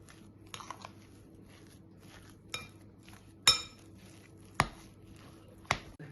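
A spoon stirring and knocking against a bowl while potato and onion filling for vareniki is mixed, giving a handful of sharp, spaced clinks and taps over a quiet, faintly humming room.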